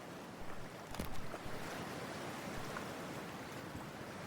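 Freezing water in the video game Cyberpunk 2077, a steady broadband wash like surf and rushing water that stays even and fairly loud throughout, with a slight swell near the start.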